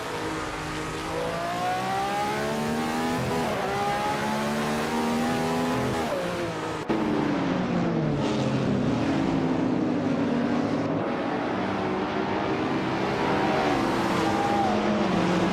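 A 2015 McLaren 570S race car engine in a racing video game, revving hard and steadily for the whole stretch, with pitch rising and falling through gear changes and a brief dip partway through.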